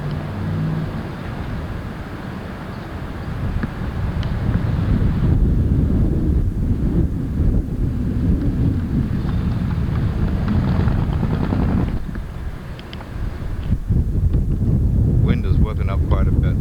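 Strong wind buffets the microphone on a Downey street corner, a loud continuous low rumble with gusty surges that fills the whole stretch, with some traffic-like noise mixed in.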